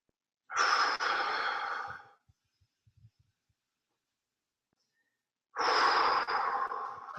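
Two strong, forceful vocal exhalations during a martial arts leg stretch, each a long, breathy push of air lasting over a second, separated by quiet pauses and faint rustles.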